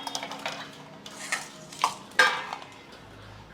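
Dishes, pots and cutlery clatter as scattered utensils are gathered in a home kitchen, a series of separate clinks and knocks of metal and ceramic at an uneven pace, close and moderately loud, with no talking.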